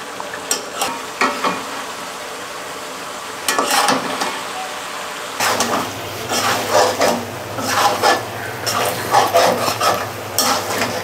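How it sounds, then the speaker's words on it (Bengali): Mutton is stir-fried in a pan for kosha, with repeated scraping and stirring strokes over a low frying sizzle, close and uneven in rhythm, joined partway by a steady low hum. "এটা ভাই ব্যাচেলারের মাটন কষা"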